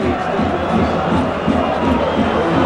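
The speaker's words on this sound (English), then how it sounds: "The Romanian crowd doing their best to get behind their side" Large Romanian football crowd at the national stadium in Bucharest, a dense continuous roar of cheering and chanting filling the whole clip, loud and unbroken.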